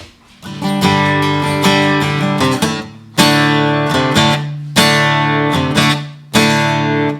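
A plucked guitar C note on the second string, third fret, rings out, then is restruck three more times at a steady pace, each decaying, with no voices.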